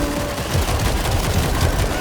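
Dense, continuous gunfire in the zombie shooter World War Z, a loud sustained fusillade of overlapping automatic shots with no pauses across the whole stretch.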